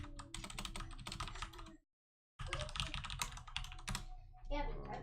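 Fingers tap on a computer keyboard in rapid, uneven runs of close clicks. The typing pauses briefly for half a second, then resumes just as busily.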